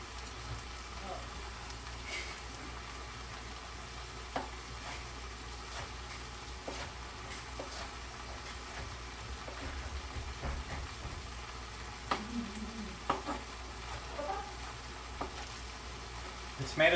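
Scrambled tofu with tomato sizzling and simmering in a pan, a low steady crackle running throughout with occasional small pops and stirring clinks, faint beneath the room.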